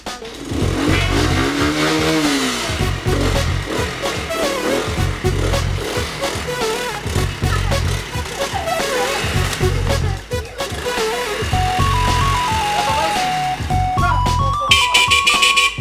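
A motorcycle engine starts up and revs in a pulsing, loud run close by, with voices talking over parts of it and a brief musical tone near the end.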